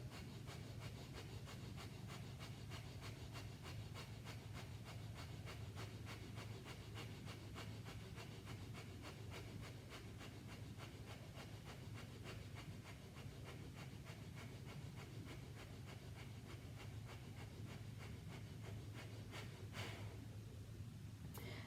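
Kundalini breath of fire, a rapid, steady rhythmic panting through the nose during a Nabhi Kriya core set, with quick hissing breath pulses repeating without pause for about twenty seconds and a faint room hum beneath.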